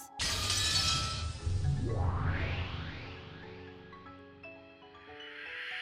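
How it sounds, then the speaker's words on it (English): The whole world shattering like thin glass in the Umineko When They Cry video game: a loud, bright crash at the start, followed by sweeping, ringing tones that fade away over several seconds. "the whole world shattered as though it was made out of thin glass"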